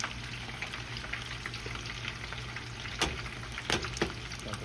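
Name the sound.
tempura shrimp frying in oil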